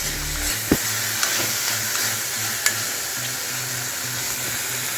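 Cucumbers being stirred in a hot pan on a stove, giving a steady sizzle and frying hiss with a few sharp clicks of the utensil against the pan and no voices.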